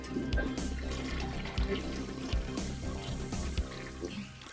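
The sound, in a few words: toilet flushing sound effect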